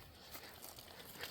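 A sticker on a monster log dolly bike being handled, giving a close, continuous crinkly crumpling and peeling rustle with small tearing bursts throughout.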